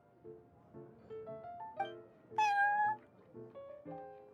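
A cat in the Genshin Impact card game lets out a run of short, bright meows, with one louder drawn-out cry in the middle over soft chiming game music.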